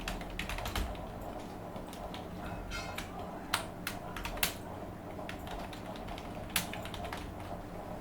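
Typing on a computer keyboard while writing in WordPad, a steady run of quick, light plastic key clicks with a few sharper louder taps, close and continuous, with no speech.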